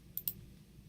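Two quick, faint mouse clicks land close together at the start, sharp and near, followed by quiet room tone.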